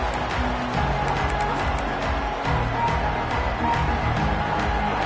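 A large football stadium crowd roars continuously, a dense, loud wall of cheering and noise that holds steady for several seconds with no break.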